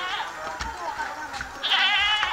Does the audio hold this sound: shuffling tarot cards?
no